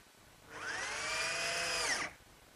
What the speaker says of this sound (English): I'll fasten it in place using some 1-inch drywall screws